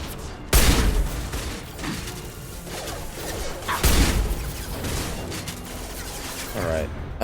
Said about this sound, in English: Nope, that's the guns.